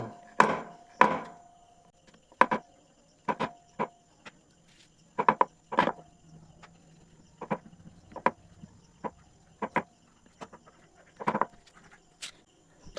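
Flour dough being rolled out with a rolling pin on a board dusted with wheat flour. Irregular sharp knocks and taps come up close, separated by quiet gaps, with no talk.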